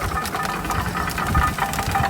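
An engine drives a sugarcane crushing machine in a village jaggery-making setup, making a steady, close, rough mechanical rumble with a knocking, chugging rhythm and a vibrating clatter throughout.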